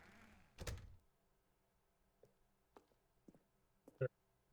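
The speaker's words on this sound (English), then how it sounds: "What if I close the door?" A heavy thud opens the sequence as a door is closed in The Stanley Parable, followed by several faint clicks and light knocks and a sharper latch-like click near the end, with a voice briefly audible at the start.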